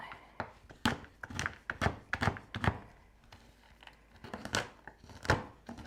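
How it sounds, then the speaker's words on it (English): Semi-sweet baking chocolate being roughly chopped with a knife on a board, a run of close, sharp thunks and crunches in an irregular rhythm, with no voices over them. "So this is baking chocolate, semi-sweet, and I'm just gonna roughly chop it."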